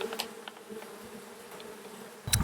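Honeybee foragers buzzing as they fly back into a hive during a beekeeping check on a split, a close steady drone of many wings with a few louder passes and a brief handling bump at the end.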